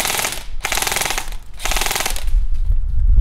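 An airsoft gun fires BBs in two rapid, loud bursts of closely spaced shots, each lasting about half a second, with a rumbling low tail at the end.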